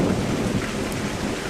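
Steady rain pours with a deep rumble of thunder rolling underneath, a continuous dense storm wash close by with no voices, setting a dark stormy night for a ghost story.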